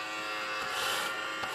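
Small vacuum cleaner running continuously, a steady buzzing whine with a slight swell in the middle, close and without talking.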